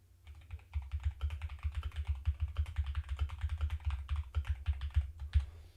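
Steady, rapid clatter of typing on a computer keyboard at a standing-desk setup, close and fairly loud, with dense keystrokes running continuously and no talking.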